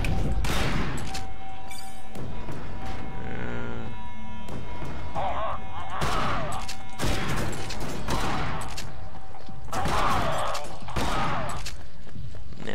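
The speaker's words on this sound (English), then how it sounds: "Man, if I only had a better shotgun." Shotgun blasts and gunfire in the video game Bunker Punks, loud and repeated in bursts over continuous game noise and music.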